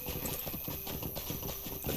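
Horse hooves clip-clopping in the video game LOTRO while riding a Mickle Delving horse at nightfall, a quick steady rhythm of hoofbeats over continuous ambient game sound and music.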